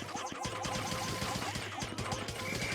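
A glass gate smashed in Pikmin 3, a dense clattering, rapid run of hits and shattering crunches over steady game noise, held at a moderate level the whole time.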